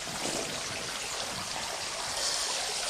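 Water from a freshwater spring flows steadily in a continuous broad rush and trickle, fairly close and unbroken, with no voices over it.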